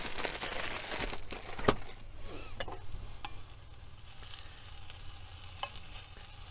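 A tofu and bean sprout stir fry sizzles in a pan over high heat, steady frying crackle with occasional stirring scrapes and clatters, fairly close and without talk.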